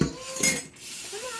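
Dirty dishes and cutlery clinking together, two brief close clatters a moment apart.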